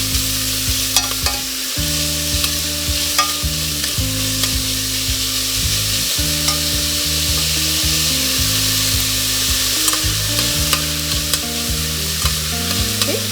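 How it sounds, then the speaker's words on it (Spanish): Chopped onion frying in hot oil for lentils, a steady close sizzle with stirring scrapes throughout and faint tonal music underneath. "Lo vamos a freír hasta que la cebolla esté cristalina."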